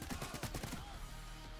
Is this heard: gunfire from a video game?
yes